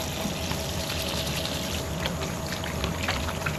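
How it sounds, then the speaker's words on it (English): Running water pours steadily from a tap as hands are washed at a truck camping stop, a continuous close splashing hiss with no pauses. "I'm gonna wash my hands."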